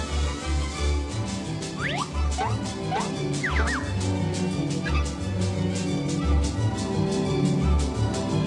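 A broken mechanical bird in the Toonstruck game gives out repeated garbled, gobbling squawks and warbling chirps over a rhythmic clunking, knocking mechanism, loud and close.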